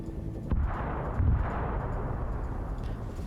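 A tank explodes in a video game as a deep, distant boom with a second heavier thud shortly after, followed by a low rumbling roar that fades slowly.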